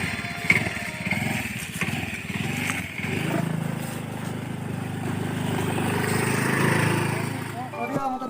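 A motorcycle engine struggling and failing to start, its rough mechanical churning rising and falling steadily for several seconds with people talking over it throughout.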